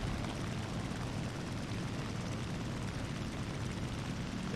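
A propeller aircraft engine drones in War Thunder, a dense, continuous roar with a throbbing low rumble, loud and steady from start to finish with no pauses.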